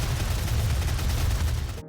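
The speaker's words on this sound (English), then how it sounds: "Every time you land a hit, you get a sound" DOOM gameplay combat audio: dense, loud, continuous gunfire and impact blasts with heavy low-end thumps for nearly two seconds, cutting off abruptly at the end.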